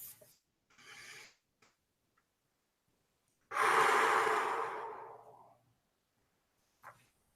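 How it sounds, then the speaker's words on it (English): A long, deep inhalation and exhalation during a calming tapping exercise, the breath rising loud and airy then fading out over a couple of seconds, with softer breaths before and a brief one after in an otherwise quiet room. "And take a deep breath."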